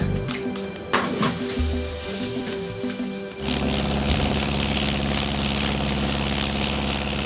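A light aircraft's propeller engine rumbles softly with tonal hums, then after a few seconds catches and roars to a steady, loud drone that fills the rest of the clip.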